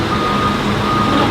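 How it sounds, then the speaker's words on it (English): A bucket truck in Palm Beach Gardens beeps steadily while reversing, a loud, continuous warning tone over engine rumble. "So here's the bucket truck here."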